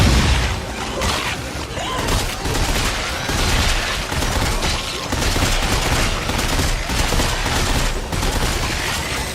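Dense, rapid gunfire from the video game Dead Space 3 crackles in a continuous loud barrage with booming impacts, almost no speech above it.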